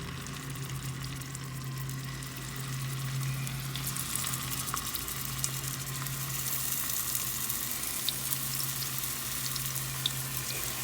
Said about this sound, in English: I just brown my meatballs all the way around